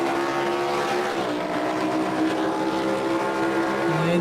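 Race car engine in a racing game set at Montreal's Circuit Gilles Villeneuve howls steadily, pitch climbing, dropping at a shift and climbing again, loud and close with no voices.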